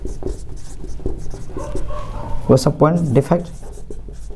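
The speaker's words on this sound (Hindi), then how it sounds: "चलिए हम इसे लिखते हैं" Scratchy strokes of handwriting during a chemistry lesson on solid-state point defects, heard near and intermittent, with a man lecturing over and after them.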